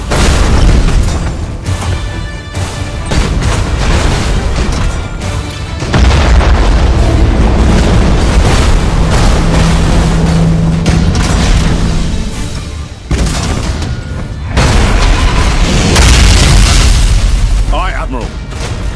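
Imperial warship main battery cannons fire in a broadside during a space battle in Battlefleet Gothic Armada 2, with repeated heavy booms and rumbling blasts that keep coming in dense succession and a voice speaking over them.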